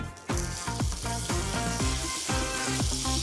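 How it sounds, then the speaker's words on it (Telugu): Butter sizzles and crackles in a hot cast iron kadai on an induction cooktop, a loud continuous frying hiss with rhythmic pulsing spatter, close up and with no talking. "సో కడాయి హీట్ అవ్వగానే కాస్త బటర్ని యాడ్ చేసుకుంటాను"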